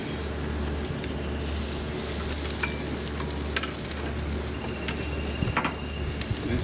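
Tomahawk pork chops seasoned with lemon pepper sizzle on a grill in a dense, constant crackling hiss, close and fairly loud, with a low steady hum beneath and a few sharp pops, no talking.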